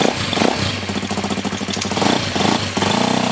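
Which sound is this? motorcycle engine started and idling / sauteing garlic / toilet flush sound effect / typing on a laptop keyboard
motorcycle engine started and idling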